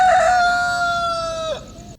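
A rooster crows once in a long drawn-out call, loud and close, falling away at the end with no voices over it.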